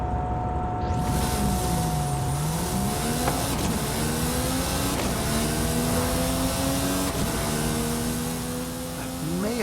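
Car engine accelerating in an arcade-style racing video game, a steady droning tone with rising and falling engine harmonics sweeping upward, loud and continuous throughout with no talk.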